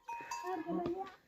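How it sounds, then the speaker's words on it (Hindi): A buffalo calls out in a Pahadi hill village, a drawn-out tonal bellow lasting about a second, fairly close and clear with faint farmyard background. "भैंस बुला रही है।"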